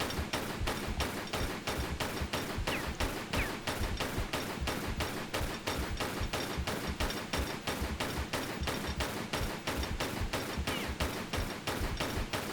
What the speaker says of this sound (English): we can shoot him from here without him being able to do anything to us